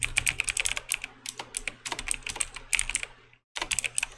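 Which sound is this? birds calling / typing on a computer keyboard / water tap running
typing on a computer keyboard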